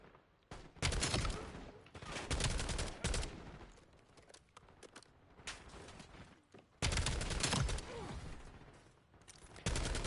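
Rapid automatic gunfire bursts from a weapon in Black Ops 7, loud and close, with several sustained volleys separated by short quieter gaps.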